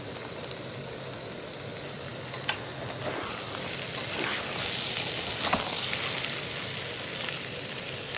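Large vegetable pieces fry in a pan for a home-style pickle, giving a continuous soft sizzle with occasional sharp crackles and scrapes as they are stirred.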